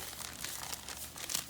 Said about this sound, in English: And then we're going to fold it in half.